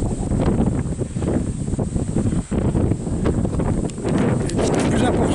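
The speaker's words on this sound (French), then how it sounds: "Je ne sais pas où mettre pour éviter le vent" Wind buffeting a microphone outdoors during a storm, a heavy continuous low rumble with gusty swells across the whole stretch, dipping briefly midway; a voice talks faintly beneath it.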